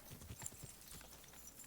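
Horse hooves clip-clop in a steady trotting rhythm in Kingdom Come: Deliverance II, close and moderately loud, with a faint whinny mixed in over a busy outdoor game backdrop.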